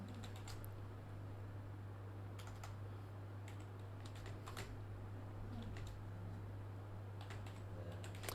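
Soft, fast typing on a computer keyboard while entering names into Excel cells: irregular light clicks in short bursts with brief pauses, close and quiet over a steady low electrical hum, no voice.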